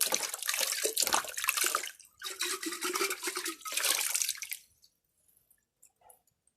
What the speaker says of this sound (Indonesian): Kita cuci dulu, kita bilas dengan air serai.